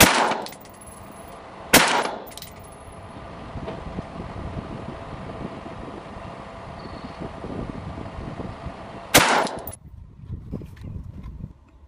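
Rifle shots at a target on an outdoor range, with an Aimpoint sight on a Scalarworks mount: three sharp, loud cracks spaced several seconds apart over steady wind noise on the microphone.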